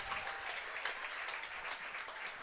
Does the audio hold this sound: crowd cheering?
yes